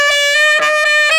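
A saxophone plays C sharp using a false fingering, producing a bright, reedy sustained tone with slight timbral wavering and short breaks in the note.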